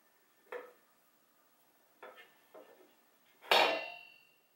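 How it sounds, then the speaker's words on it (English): Plastic slicing disc with a blade set onto a food processor, giving a few light clicks and taps followed by one louder clattering knock as it settles into place, with no talking. "Place the disc with the slicing blade on top."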